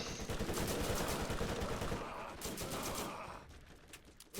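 Rapid automatic gunfire in the shooter game Borderlands, dense bursts of shots hammering nearly continuously, loud and close, thinning toward the end.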